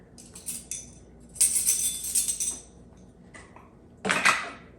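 Lids come off spice containers in a home kitchen during freezer-meal prep, with a few bursts of plastic and dish clatter and rattling separated by quiet gaps, close by and without voices.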